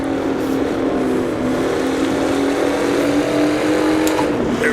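A racing car in Assetto Corsa, a modernized 1960s-style Formula car, holds a steady high-pitched engine drone that climbs gradually, then briefly dips near the end as it shifts gears, loud and continuous with no talk.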